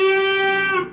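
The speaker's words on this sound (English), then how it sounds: "The next measure, we have a bend and release on 10 on the 3rd string." An electric guitar with effects sustains a single bent note on the tenth fret of the third string, holding steady then sliding back down as it releases and fades, heard alone.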